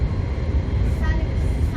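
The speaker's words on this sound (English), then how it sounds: "We're on the train that terminates in Bedford" Train running on a line to Bedford, a steady loud rumble of wheels and carriage noise with a faint tonal whine, heard from inside the carriage.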